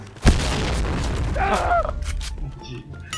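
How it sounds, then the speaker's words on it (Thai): A sharp boom from an explosion is followed by rumbling and scattered bursts of gunfire, with voices and game-like noises mixed in. "ทั้งระเบิดทั้งปืน"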